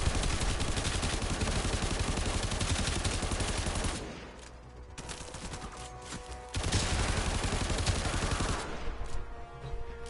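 Gunfire in the video game Warframe, rapid bursts of automatic shots in two long loud stretches with a quieter patch of scattered shots between them.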